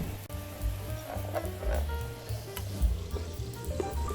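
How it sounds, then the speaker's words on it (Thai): Sauce simmers gently in a pan over low to medium heat for a Thai-style chili dish, giving a steady soft bubbling and sizzling with small irregular pops, close by and alone, with no talk. "แล้วก็เปิดไฟอ่อนถึงไฟกลาง ค่อยๆเคี่ยวให้ซอสงวดขึ้น"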